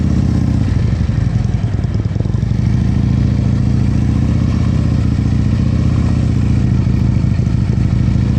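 Motorcycle ridden at slow speed on a Pennsylvania practice course, steady low engine rumble with light mechanical clatter throughout, close and loud, easing as the rear brake brings it to a smooth stop.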